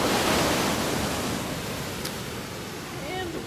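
Ocean surf at Laguna Beach rolls in with a steady, full wash of broadband noise, loud and close, without a clear break between waves and with no one talking.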